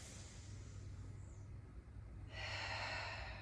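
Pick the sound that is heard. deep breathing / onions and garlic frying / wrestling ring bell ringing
deep breathing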